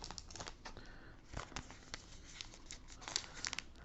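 A 2023 Allen and Ginter trading card pack wrapper is torn open and crumpled up close, a steady run of crisp crinkling with sharp tearing bursts and no talking.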